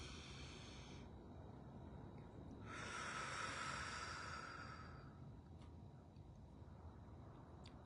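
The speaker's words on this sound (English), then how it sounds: "Let's take another deep breath in." One slow, deep breath drawn in and let out close by, a soft airy rush that swells and fades against a quiet background.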